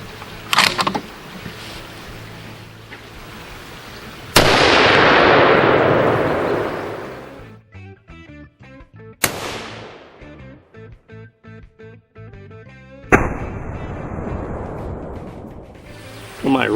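A Desert Tech HTI rifle fires 352 grain rounds in heavy, booming shots spaced several seconds apart, each with a sharp crack and a long rumbling decay that echoes across the range.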